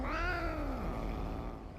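A house cat in the video game Lake gives a single drawn-out meow, clear and fairly close, rising then falling over a steady low background hum.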